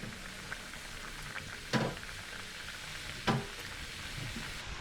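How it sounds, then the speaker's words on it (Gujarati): Potato-spiced kachori frying in hot oil, a steady soft sizzle throughout with two brief louder bursts of bubbling, close and alone without talk. "હવે એને ફ્રાય કરી દઈશું."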